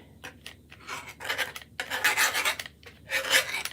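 Chalk rubbed across a chalkable chip shape surface, a series of raspy scratching strokes, close and fairly loud, alternating short and longer rubs with brief pauses.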